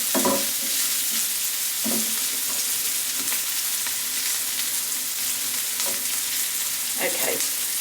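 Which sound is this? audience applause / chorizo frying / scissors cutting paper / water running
chorizo frying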